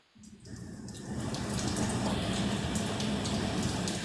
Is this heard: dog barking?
no